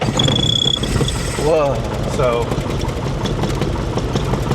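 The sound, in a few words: small airplane piston engine starting and idling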